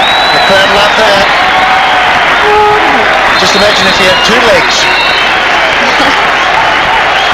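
Big hockey stadium crowd at a 1994 World Cup semi-final, Pakistan against Germany, roaring and applauding in a steady, loud wash of cheers and clapping, with a commentator talking over it throughout.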